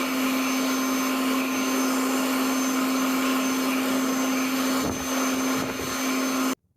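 A Slim Dry hand dryer blowing in a Lowe's restroom in Monroeville, a loud, steady high-pitched whooshing roar with a whine that runs unbroken for several seconds before cutting off abruptly.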